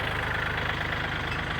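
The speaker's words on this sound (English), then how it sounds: "The type of tractor, I got a 40 HP Kubota" A 40 HP Kubota tractor engine idling, a steady low rumbling chug with an even pulse, close and constant with no voices.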